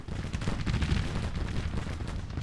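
Civil War cannon and musket fire in the Grand Tactician strategy game, heard as a dense, continuous rumble of overlapping booms and crackling volleys at a moderate distance.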